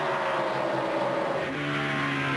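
NASCAR stock cars at the 2002 New England 300 roar around the track, a loud continuous engine drone with shifting pitch as cars pass, no talk over it.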